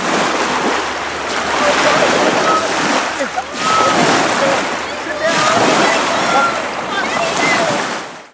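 People swimming and splashing in the cold Arctic Ocean, with broad washes of surf and splashing that surge and ebb in several waves, loud and close, and voices faintly mixed in.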